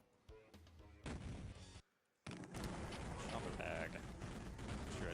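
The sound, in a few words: pipe bomb explosions in video game Duke Nukem 3D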